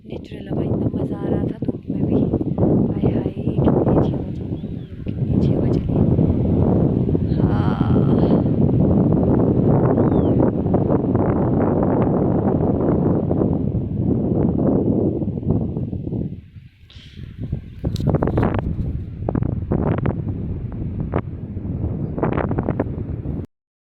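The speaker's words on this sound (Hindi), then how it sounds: "हाय हाय कितनी अच्छी हवा चली, कितनी अच्छी हवा चली।" Cool wind rushing across a hillside in Himachal Pradesh, a loud steady roar buffeting the microphone, easing briefly near the end before gusting again, with someone talking over it.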